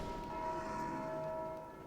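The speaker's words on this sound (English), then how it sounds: "the bell rings anyway because of enemies spawned on top of it" A church-style bell rings in Dark Souls 2, set off by enemies spawned on top of it; a sustained, ringing metallic tone hangs steadily throughout at moderate loudness, with no voices.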